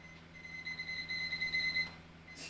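A kitchen-style timer alarm sounds during a kicking exercise class, giving a steady high-pitched electronic beeping tone that holds for about a second and a half and then cuts off, moderately loud and with no talking over it.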